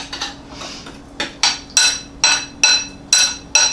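Plums and a quarter cup of sugar stirred in a dish, a spoon knocking against the side in a steady series of sharp clinks and taps, about two per second, close by with no talking.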